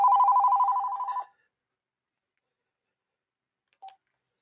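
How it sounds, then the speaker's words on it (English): A mobile phone gives a warbling electronic ring burst, fairly close and clear, then goes silent apart from one short faint blip. "And mom's phone is ringing."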